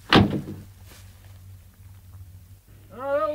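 A heavy old door thuds shut with a single close, solid knock at the start, followed by a quiet room hum and a faint later bump before a voice begins speaking.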